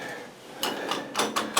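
A loose doorknob on a metal and wood apartment door rattles in a few quick clattering bursts, close and brief.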